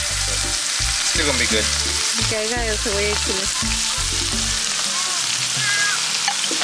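Meats and nopales for discada fry and sizzle steadily in oil, a constant crackling hiss beneath someone speaking briefly and background music tones.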